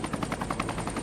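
A traffic helicopter in a Need for Speed 2 racing game, with fast, steady rotor chopping that sounds close and sits alone with no talk over it.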